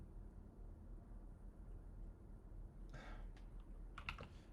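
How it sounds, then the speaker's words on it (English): Quiet typing on a computer keyboard: after a stretch of low background hum, a short burst of soft key clicks, then a few more taps close together near the end. "Typing the @ symbol into my prompt"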